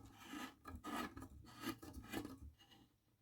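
A fluorescent lamp tube is twisted into its socket, giving a faint, close, gritty rasping and rubbing with uneven strokes and no voice.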